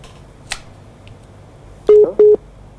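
A studio telephone line sounds two loud, close electronic tones in quick succession as an incoming call reaches a live Islamic talk broadcast, preceded by a brief click, with no talking.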